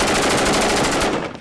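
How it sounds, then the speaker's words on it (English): A machine gun firing in combat, a loud, dense rapid burst of shots with steady rhythmic pulses that cuts off near the end, close and harsh, no voices. "That guy who's just firing as if he's having a fit"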